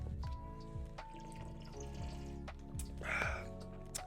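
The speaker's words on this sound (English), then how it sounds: "Let me take a sip of water real quick." A short sip of water during a gaming podcast, soft wet drips and a small gulp near the mic over a steady low background hum, no talking.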